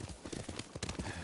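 Horse hooves clopping at a riding pace in Ghost of Tsushima, a quick steady rhythm of hoofbeats over a dense, close game soundscape for just over a second.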